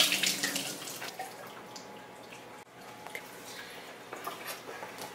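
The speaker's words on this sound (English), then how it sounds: "I'm going to start by opening my can of artichoke hearts. I'm going to strain the liquid out." Liquid drains from a can of artichoke hearts through a strainer, a steady running trickle with small drips and splashes, close and moderately quiet, no one speaking.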